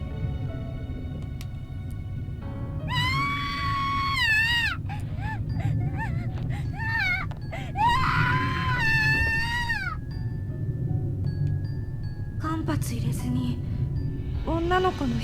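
A girl's high, wavering screams rise in repeated anguished bursts over a dense, dark rumbling drone in the horror game Corpse Party, loud and close, with several separate cries spread across the stretch.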